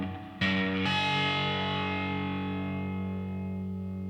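A single open A string note on an electric guitar, played through effects with a distorted, chorus-tinged tone, struck once and left to ring with a long, slowly fading sustain, alone and fairly loud.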